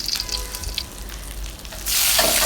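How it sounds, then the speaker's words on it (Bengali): Cumin seeds, two pieces of cinnamon and bay leaf crackle in hot oil in a wok, then the sizzle surges into a loud, dense hiss near the end. "আরেকটা কড়াইতে তেল গরম করে এর মধ্যে আমি দিয়ে দিলাম জিরা ফোড়ন, আর হচ্ছে 2 টুকরা দারচিনি, আর দিলাম তেজপাতা"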